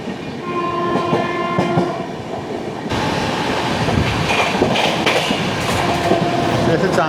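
The 16334 Trivandrum Veraval Express runs near at speed, its horn blaring for the first few seconds before a dense, loud rumble of wheels and clattering track joints takes over.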